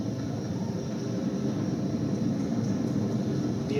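Falcon 9 rocket engines during ascent, throttling back up to full power after the period of maximum dynamic pressure: a steady, distant broadband roar with heavy low rumble, continuous and unbroken throughout.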